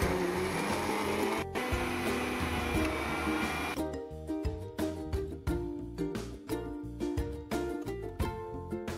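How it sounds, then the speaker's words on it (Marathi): A mixer grinder whirs loudly and continuously while grinding curry leaf chutney, then cuts to a series of short pulsed bursts, each starting and stopping in quick succession, with no talking. "आता पुन्हा एकदा बारीक करून घेऊया।"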